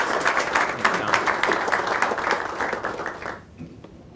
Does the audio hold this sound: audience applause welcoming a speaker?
yes